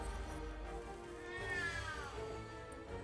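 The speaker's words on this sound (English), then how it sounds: "We can start out with the loudest cat in the world." One cat gives a loud, drawn-out meow with a rising, wavering pitch over a steady background hum.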